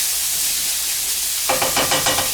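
Carrots, garlic and broccoli sizzle in olive oil in a pan, a steady close hiss that turns into rhythmic scraping and tossing as the vegetables are stirred partway through.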